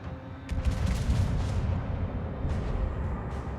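An air fire support strike in the World of Warships video game: a dense, loud rumble of blasts and booming impacts, steady throughout with a few sharper bursts.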